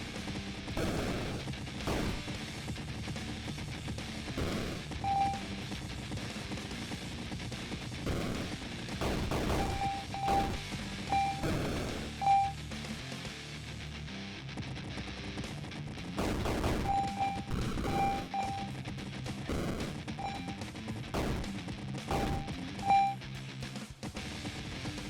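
Gunfire rattles from the shoot 'em up Twilight Parade: Moonlit Mononoke in dense, continuous volleys, with sharp bursts and occasional bright beeping hits layered over a busy backdrop.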